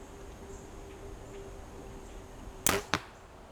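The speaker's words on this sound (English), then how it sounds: "This is the first shot with the Aerobump in the upward fashion." An arrow loosed from a bow fitted with a Firenock Aerobump: one sharp release snap, then a second crisp thwack a split second later over a faint steady background hum.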